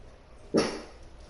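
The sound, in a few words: puppy barking in a video game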